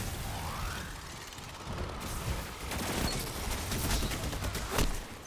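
A fusion rifle fires in Destiny 2 PvP combat, with a rising charge-up whine followed by bursts of sharp mechanical shots and clatter, fairly loud against busy game ambience, and no voices.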